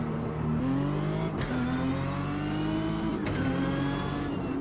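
Sprint race car engine in Automobilista 2, racing at Jacarepagua, revving steadily at high pitch with gear changes shifting the tone, loud and continuous with no voices.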